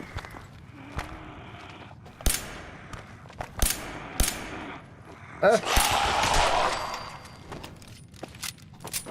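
Sporadic gunshots in Fallout 4, several sharp close bursts spaced irregularly among footsteps and shuffling, with a longer noisy swell midway.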